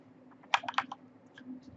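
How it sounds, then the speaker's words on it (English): Short bursts of typing on a computer keyboard while configuring a network lab: a quick cluster of sharp key clicks, then a few sparser taps, close up and fairly quiet over a low steady hum. "I'm so bad at typing right now"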